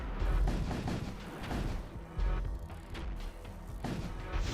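Ship weapons fire in the space combat game Void War, a dense run of heavy booming shots and crashing impacts, loud and continuous with several sharp bursts.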